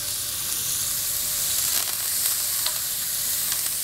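Onion, celery, garlic, thyme and a bay leaf toast in a hot pan, giving a steady, close sizzle with soft crackles and a few brief stirring scrapes, with no talk.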